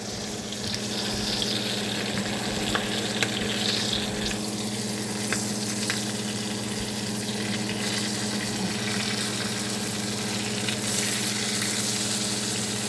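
Food fries in a pan with a steady, close sizzle and scattered small clicks throughout, with no one talking.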